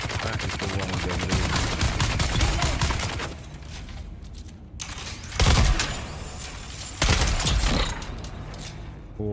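Rapid automatic gunfire from the Dune: Awakening video game rattles in a dense, sustained burst for about four seconds, then after a brief lull two louder, heavier bursts of fire crash close by, with no talking.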